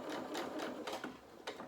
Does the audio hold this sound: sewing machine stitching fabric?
yes